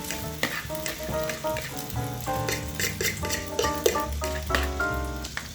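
A bread mixture fries in a hot pan, giving a steady, close sizzle that runs throughout beneath background music.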